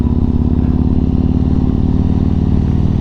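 Several motorcycles pull away from Langport Bike Night, a steady loud throb of engines close by with pulsing low rumble and clatter throughout, no voices.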